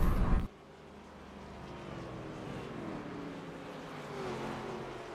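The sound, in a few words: race cars weaving on the grid at Talladega in a racing video game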